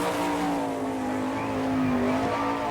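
Sprint car engine at a dirt track during qualifying, a steady loud drone of a single car circling at speed with a rising and falling pitch, no talk over it.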